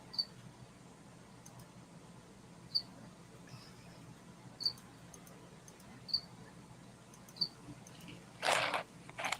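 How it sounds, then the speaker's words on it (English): A cricket gives short, faint chirps at intervals of roughly one to two seconds over a quiet background, and a brief louder rustle comes near the end. "It was a cricket again."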